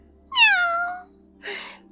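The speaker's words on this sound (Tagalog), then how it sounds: "Pusa na naman." A cat meows once in a clear, falling cry, followed after a short pause by a brief, rougher second call, close and alone against a quiet background.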